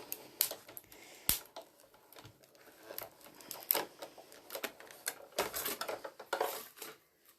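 Paper held by washi tape in a die is cranked through a die-cutting machine, giving irregular mechanical clicks, knocks and clattering at close range.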